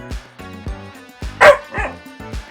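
A household dog gives several short barks and yips in quick succession, fairly close and moderately loud, with a brief whimpering tone between them.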